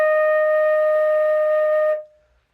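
A flute sounding a held E flat, bright and near, sustained evenly for about two seconds, then stopping abruptly and leaving silence.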